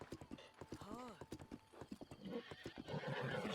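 A horse in a Zelda video game whinnies with a rising, wavering neigh, then hooves clip-clop in a steady galloping rhythm, close and fairly loud throughout.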